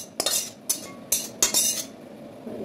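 Metal utensils and small pots are set down in a home kitchen, giving four sharp clattering clinks spaced about half a second apart over a quiet background.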